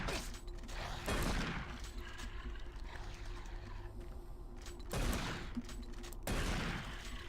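A gun fires in DOOM 3 in three separate bursts, each a sharp, crackling blast over quieter game ambience and mechanical noise.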